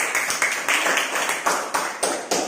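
Students in a classroom clap for their classmates, a loose burst of applause coming in uneven rhythmic pulses, moderately close and with no talking over it.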